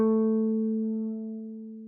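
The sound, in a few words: guitar note A, 3rd finger 7th fret 4th string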